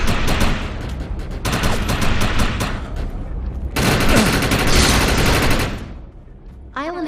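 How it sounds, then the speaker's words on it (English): Heavy sustained gunfire in the video game Defiance with the overcharge power active: two long, loud bursts of rapid shots with a brief break between them, fading at the end, where a short voice enters. "Shoot the projection while overcharge is activated."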